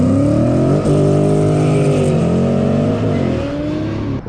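A Ford Mustang with a 5.0 V8 drives past with a loud, steady engine note that holds strong throughout, its pitch shifting slightly as it goes by, with no talking.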